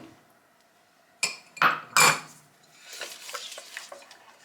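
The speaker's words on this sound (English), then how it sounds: "And you just stir." A utensil scrapes and clinks against a pot while honey, butter and sugar melt, a few sharp strokes followed by softer quiet stirring.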